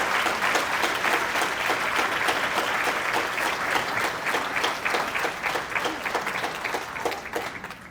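An audience gives a steady round of applause in a hall, welcoming the president of the board, dense clapping that holds even and then gradually fades.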